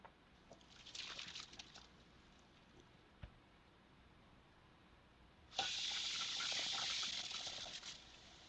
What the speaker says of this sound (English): I'm putting a little bit of water in it